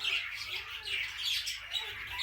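Quail chicks chirping in a brooder, a dense overlapping chorus of high, thin peeps close by, continuous with small rises and dips in loudness.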